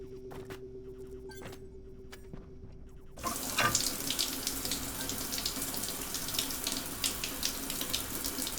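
Shower water in the video game Stationeers switching on abruptly after a quiet stretch with faint tones and clicks, then running as a steady, close hiss of spraying water to the end.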